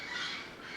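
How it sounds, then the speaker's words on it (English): Birds squawk in a short, harsh, shrill burst heard close by and on its own. "And the birds are all going to go nuts now and spoil this."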